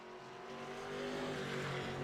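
Race car in a NORA Grand National Series event pulls back out onto the track, a steady engine drone swelling slightly louder over two seconds, heard from a distance with no talk.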